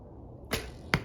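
An arrow leaves an Egyptian Duoflex bow with a sharp snap, followed a moment later by a second brief rattling click at the end of the shot, close and isolated against quiet background.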